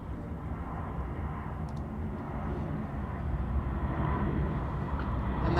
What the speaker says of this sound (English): Might have to fight again with the next plane that's coming in